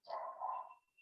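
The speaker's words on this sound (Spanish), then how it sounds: "El perro, ¿se escucha? Sí, ese perro está full siempre." A dog gives a single short bark at a distance, faint and thin, with a small trailing yelp just after.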